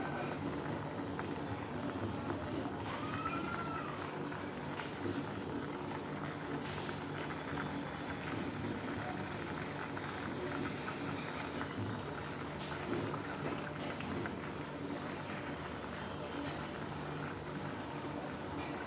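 Butter melting into ghee in a pan, bubbling and sizzling in a steady, continuous fizz that holds at an even level throughout, with no voices.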